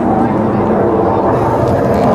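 A Red Arrows Hawk jet roars through the sky at an RAF Waddington air display, a broad, steady jet rumble heard from a distance under an announcer's commentary.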